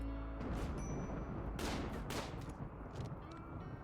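A few sharp gunshots from colonists firing in the video game RimWorld, two crisp reports standing out over a faint background din, with no voices.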